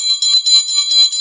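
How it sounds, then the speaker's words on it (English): A small handheld truth bell rung in a podcast studio, giving a rapid, continuous bright metallic jingle that pulses evenly for its full length, close and fairly loud with no talking. "I'm ringing my bell when someone has the ring of truth."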